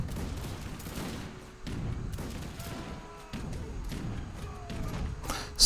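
Musket volleys crackle in a battle in the Age of Empires 3 video game, with repeated muffled bursts of gunfire and thuds in an irregular rhythm at moderate distance.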